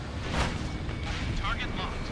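A SAM site blowing up in the Ace Combat Infinity flight game, a broad rumbling burst over steady jet and wind noise, with a voice speaking briefly.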